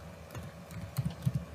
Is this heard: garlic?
no